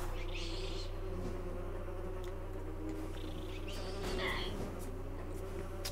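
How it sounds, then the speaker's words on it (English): Wasps buzz in Metroid Prime Remastered, a few swelling, wavering whines passing near over a steady low background hum. "Let me get out of the way of these wasps a second."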